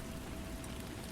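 Steady rain falling on a surface, a dense, even hiss with soft low patter, continuous and unchanging throughout, with no voices.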